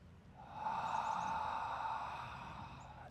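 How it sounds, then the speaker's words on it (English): A person gives one long, deliberate exhale through the mouth during a breathing exercise, a soft, airy breath that swells and then slowly fades over a couple of seconds against quiet background hum. "Big intentional exhale through the mouth."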